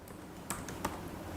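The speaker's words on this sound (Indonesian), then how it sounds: "ini mengetik ulang password yang tadi" A password is typed on a computer keyboard in a few quick, close key clicks, two of them louder, with no voices.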